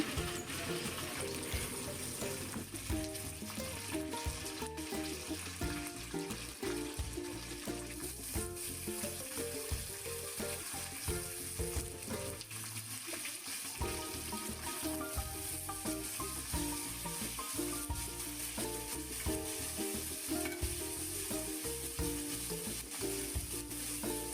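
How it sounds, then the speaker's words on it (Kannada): Onion and curry leaves sizzle steadily in hot oil as a tempering for a home-cooked dish, a dense continuous frying crackle with occasional stirring, close and loud throughout with no talk. "ನಾನಿಲ್ಲಿ ಸ್ವಲ್ಪ ಎಣ್ಣೆಗೆ ಈರುಳ್ಳಿ, ಕರಿಬೇವಿನ ಸೊಪ್ಪು ಮಾತ್ರ ಹಾಕ್ಕೊಂಡಿರೋದು"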